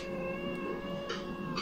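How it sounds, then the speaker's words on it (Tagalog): A cat meows in a drawn-out, whining caterwaul, close by and fairly loud over a low background hum, with short breathy bursts toward the end. "Tignan nyo yung pusa"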